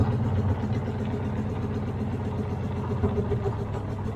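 A Caterpillar road grader that had sat unused for seven years runs steadily with a low, rumbling diesel drone as it is put into gear, close and continuous throughout.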